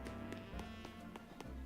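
Character footsteps in a Pokémon video game, a steady run of soft taps at a regular pace, quiet beneath a constant background music bed.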